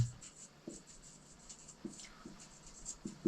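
A pen scratches across paper during a maths logic lesson, soft close strokes in short irregular bursts with light taps, quiet and without speech.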